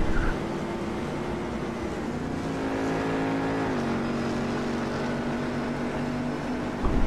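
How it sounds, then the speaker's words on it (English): Race car engines drone steadily with tonal whine and shifting pitch as cars roll into the pits at Sebring in a GTC sim racing game, a continuous close mechanical hum with no talking. "See some of the other cars coming to the pits to get regular service."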